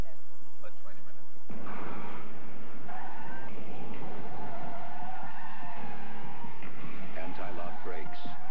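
A BMW 528e brakes hard on its anti-lock brakes, with a loud, rough skid of tyres against the road lasting several seconds and a steady roar of car noise underneath.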